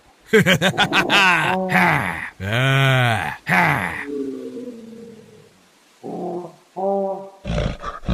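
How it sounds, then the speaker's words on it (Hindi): A haunted black monkey in a horror story lets out loud, deep, drawn-out roars and groans in several bursts, then gives a few shorter growls with pauses between them. "तभी वह काला बंदर जोर जोर से चिंघाड़ने लगता है।"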